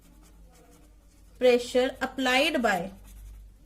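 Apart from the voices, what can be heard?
writing on a board during a lecture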